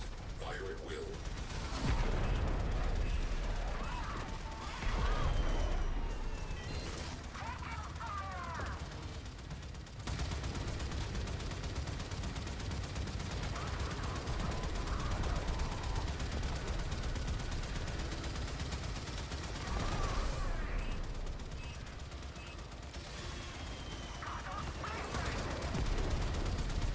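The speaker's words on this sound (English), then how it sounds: "Gunners, fire at will." Spaceship gunfire during a Railjack space battle in the video game Warframe: rapid, sustained bursts of shots crackling over a dense rumbling mix of engines and effects, with a voice speaking at times.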